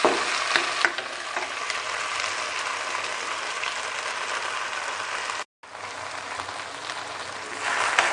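Rice and vegetables sizzling in a hot pan for Chinese vegetable rice, with a steady close frying hiss and occasional scraping stirs, briefly dropping out before resuming.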